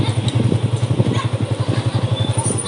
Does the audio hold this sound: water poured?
no